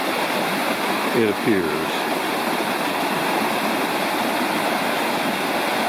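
Water rushing steadily at a wet river crossing on a Lost Cove Wilderness backpacking trail, a loud, unbroken wash that fills the whole moment while a voice briefly speaks over it.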